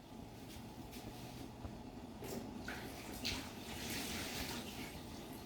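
Chicken broth pours out of a cooking pot in a low, faint, continuous splashing wash that swells slightly toward the middle and end.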